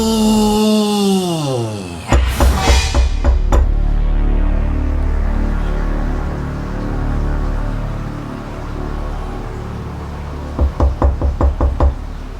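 Sharp knocks on a door in a run of quick raps, loud and close. A sustained tone slides down before the knocks start, the sound decays through a quiet stretch, and a second burst of rapid knocking comes near the end.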